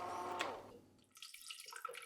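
Vanilla gelato base pours into a Breville Smart Scoop ice cream machine canister, a trickling, splashing liquid stream that starts full, briefly thins, then resumes with brighter dripping splashes.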